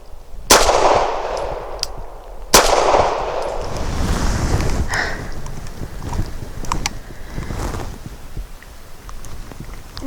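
Two sharp, loud pistol shots from a Walther P5, about two seconds apart, fired outdoors with wind buffeting the microphone, followed by rustling handling noise and a few faint clicks.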